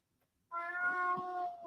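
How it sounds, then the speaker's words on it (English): A cat meows once, a clear, drawn-out call lasting about a second, close and fairly loud in an otherwise quiet room. "Oh my goodness, cat. Can you hear the cat?"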